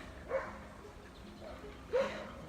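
A neighbor's dog barks twice outdoors at a moderate distance, with short yelping barks spaced well apart over a quiet backyard background.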